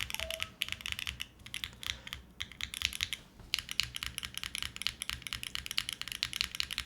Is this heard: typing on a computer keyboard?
yes